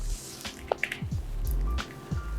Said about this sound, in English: I'm pouring the water in this glass in front of you.